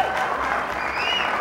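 A crowd at the 2006 US Open pool final at the Sandia Resort and Casino in Albuquerque applauds steadily, with a voice and whistle-like tones rising over dense, moderately loud clapping.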